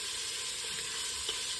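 Bacon sizzles steadily in a pan on medium-high heat for a soup, a constant crackling hiss with a faint stir near the end.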